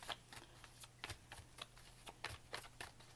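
Tarot cards are shuffled and drawn in a quiet room, with soft papery flicks and riffles coming in irregular bursts, close and faint, with no voices.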